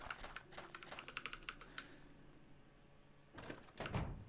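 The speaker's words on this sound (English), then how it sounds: "This is pure keyboard and mouse." A computer keyboard and mouse in play during a Resident Evil 2 speedrun: quick bursts of light key taps and clicks, then a pause, then another cluster of clacks, close and faint with no voices.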